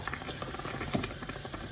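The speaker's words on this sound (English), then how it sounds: "you can hear our water for the spaghetti is steaming there" A pot of water for spaghetti boils steadily on a home stove, giving a faint continuous bubbling patter with no voices.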